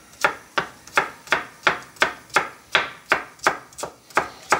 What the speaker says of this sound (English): then we're going to chop them finely like this